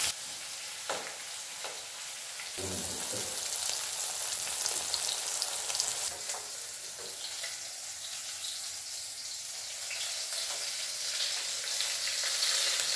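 Fish frying in coconut oil, a steady dense sizzle with crackling pops running throughout, fairly close and continuous with no voices.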